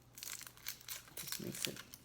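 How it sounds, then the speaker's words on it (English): Outer skin peeled off a vegetable while making ratatouille, a close, quiet run of dry crinkling and tearing rasps in short irregular bursts. "I'm just going to take off the outer edge, the outer skin, and throw it in my stock"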